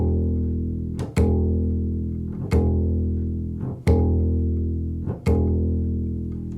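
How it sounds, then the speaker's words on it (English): Sharp slapping snaps ring out as the plucking middle finger springs back into the palm on each note on a double bass's low E string, five or six crisp clicks over the sustained, droning bass tones. "the middle finger, once it comes off the string, will snap back and make a snapping sound into the palm"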